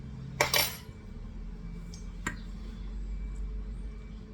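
A fork clinks against a bowl while buttermilk and egg are mixed, giving a quick cluster of bright metallic taps followed by one more sharp clink a moment later, close up, with no talking.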